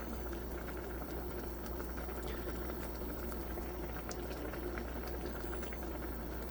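Nongshim Shin Ramyun noodle soup with egg simmers in a pot, a quiet, steady bubbling and popping that continues evenly throughout with no talk.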